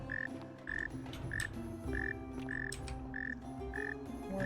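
Frogs croak in a repeating, evenly spaced rhythm of short calls in the game The Forgotten City, faint and distant over a soft ambient background with no talking.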